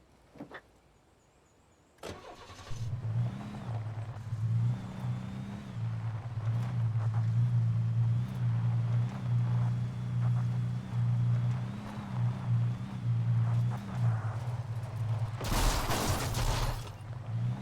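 A car in Alan Wake Remastered, a video game, spins out: a steady, loud engine hum with a wavering tone runs for many seconds, ending in a burst of harsh skidding noise.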